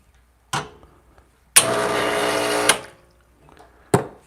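An espresso machine flushes water through its group head in a steady hiss and rush of about a second, set between sharp clicks and clunks close by.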